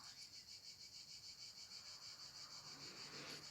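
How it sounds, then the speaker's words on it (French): Cicadas sing outdoors in hot sunshine, a dense, steady high-pitched buzzing that pulses in a fast, even rhythm throughout, moderately loud and with no voices. "moi j'entends beaucoup le chant des cigales"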